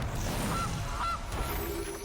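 Goose honk for the Gilded Goose card in MTG Arena, two short nasal honks over a low background game hum.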